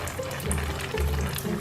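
Water splutters and gurgles unevenly out of a homemade cooling device, a close, messy dribbling and splashing that surges and fades in short bursts.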